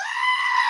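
A goat bleat goes off from a radio soundboard button, one loud, sustained, wavering cry lasting under a second, played alone.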